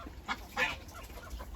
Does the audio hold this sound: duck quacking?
yes